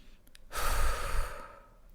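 One deep breath drawn in through the mouth, a close airy inhale that swells for about a second and fades, with faint ticks before it.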